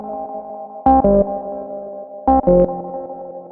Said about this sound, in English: Then we've got wow and flutter. We all know what that does as well. So it just sort of damages your tape